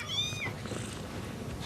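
A kitten gives a short, high meow at the start, then a quieter stretch of low background noise follows with no talking.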